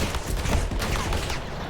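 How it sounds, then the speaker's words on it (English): Semi-automatic gunfire in the video game 007 First Light, a rapid run of dense, overlapping shots, loud and close, filling the whole moment without pause. "he's firing on like semi-automatic"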